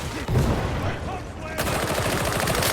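Rapid gunfire in Warhammer 40K Darktide, a dense, steady stream of shots through most of the stretch, loud and close, growing busier toward the end amid game noise.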